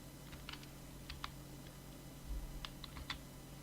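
Name being typed on a computer keyboard while setting up a Kali Linux virtual machine in VirtualBox: scattered quick key clicks in small bursts over a steady low hum, fairly faint and close, with no talking.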